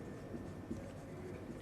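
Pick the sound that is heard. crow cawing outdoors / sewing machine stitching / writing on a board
writing on a board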